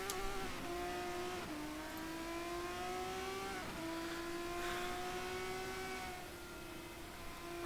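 Race cars pull away from a start in a steady, loud roar of engines, with pitches climbing through repeated gear shifts over several seconds and no voices over it.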